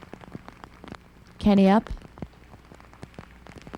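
Rain falls on a disc golf course during the final round of a 1999 championship, a soft steady hiss under a brief shout from a nearby voice.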